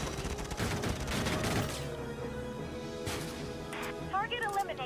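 Gunfire from the video game Valkyria Chronicles 4: a dense burst of rapid shots and impacts over the first two seconds, fading into game sounds, with a spoken voice running throughout.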